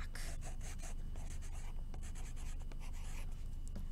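A pen or marker scratches steadily across the back of an overturned paper plate, writing a name in continuous rubbing strokes, close and alone with no talk.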